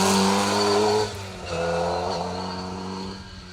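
A Forenza rally car on an asphalt stage of the Argyll Rally, engine revving loud and close with gear changes, then a shift and renewed steady engine drone as it drives on past.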